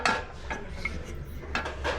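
Metal pots and pans clatter and clink lightly as they are picked up and shifted on a thrift store shelf, a few scattered knocks over steady low background noise.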